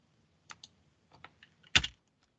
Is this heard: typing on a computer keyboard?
yes